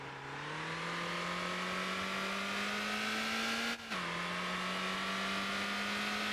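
Car engine in the driving game Motor Town, revving hard and climbing steadily in pitch, dropping briefly at a gear change before climbing again, loud and continuous with no talk.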